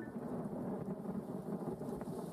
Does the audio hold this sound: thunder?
yes